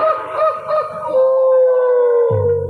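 A dog howls by a roadside, one long, loud, wavering wail held close for a couple of seconds before a lower sound cuts in at the end.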